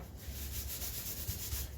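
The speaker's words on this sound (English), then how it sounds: "you really want to rub this stuff in because you want to make sure that it penetrates the wood" Oil is rubbed by hand into a wooden cutting board, a steady soft scrubbing hiss with a gentle back-and-forth rhythm, close and continuous with no talking.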